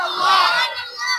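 A crowd at a religious gathering shouts a takbir response together, in one short, loud, unified burst of many voices that rises and then trails off.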